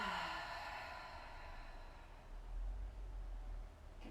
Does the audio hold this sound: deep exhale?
yes